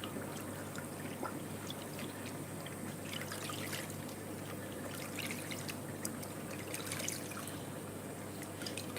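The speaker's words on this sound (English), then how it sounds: "we're filling that with RO water, which should be alright" RO water pouring steadily into a fish tank container, a continuous splashing trickle with fine droplet spatter, close and even in level throughout, no voices.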